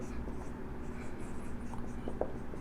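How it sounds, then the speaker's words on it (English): Chalk or marker scratching out a chemical reaction for nitric acid with copper on a classroom board, a steady soft scraping texture with a couple of brief taps near the end, heard alone over faint room noise. "First reaction we will write."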